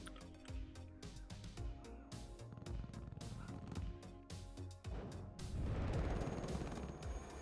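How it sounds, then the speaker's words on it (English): Machine gun and artillery fire in the WARNO strategy game, a dense, continuous barrage of rapid bursts and booms that swells heavier near the end, with no talk over it. "The machine guns are certainly doing damage."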